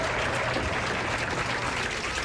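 A loud crowd applauds and cheers continuously at a 1998 women's professional bowling championship, a dense, steady wash of clapping and shouting filling the hall.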